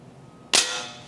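Umarex Winchester pellet air rifle fires a single sharp crack after a quiet pause, with a short fading tail.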